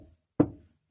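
A single knock, imitated by a person rapping once on a surface to mimic knocking at a door, is heard as a short, close, dull thud that fades quickly into silence.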